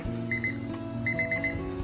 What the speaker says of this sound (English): At the same time, we have a timer.